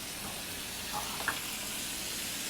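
Butter sizzling in a hot pan, a steady broadband hiss and crackle throughout, fairly faint with a couple of small pops, no voices over it.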